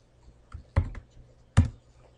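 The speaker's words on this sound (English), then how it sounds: "I'll type it rather than click it" Keys tapped on a computer keyboard while entering a spreadsheet formula in Excel: a few separate, close clicks spread over a couple of seconds, with no talking.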